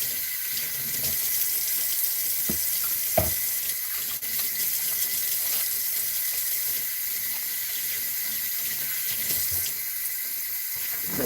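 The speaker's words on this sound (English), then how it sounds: "So I'm going to go ahead and get my hands washed." Steady running tap water at a kitchen sink as hands are washed, a continuous close hiss and splash with a few brief clunks and knocks, no talking.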